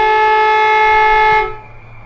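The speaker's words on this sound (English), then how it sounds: "That's quarter time with the foghorn in the background." A loud, steady foghorn blast marks quarter time at an amateur Australian rules football match, holding one sustained tone and then cutting off abruptly into quiet ground ambience.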